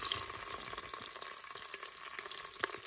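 Gentle browning of a Tunisian couscous sauce in a Cookeo multicooker: a steady, close sizzle and crackle with faint stirring scrapes, continuous for the whole stretch and with no voices.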